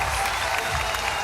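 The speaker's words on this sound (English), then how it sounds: "But the crowd getting behind her." Crowd at the 2022 SLS Jacksonville women's skateboarding final cheers and claps steadily, a dense wash of applause and voices heard at a distance for a brief moment.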